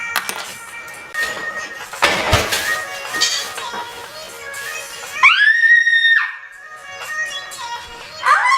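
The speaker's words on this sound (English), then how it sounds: "I screamed, I saw a spider." A woman gives a sharp, high scream at the sight of a spider, about a second long and loud, after clattering movement and low murmuring.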